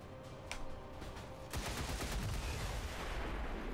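Gunfire in the turn-based strategy game XCOM 2, a sharp crack followed by a dense, rumbling burst of shots and impacts, loud and sustained without talk.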